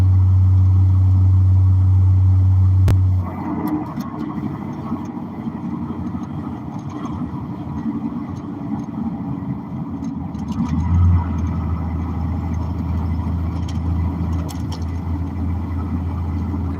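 Steady low road rumble of a vehicle driving north on a highway, a continuous drone from inside the cab with a louder engine hum near the start and end.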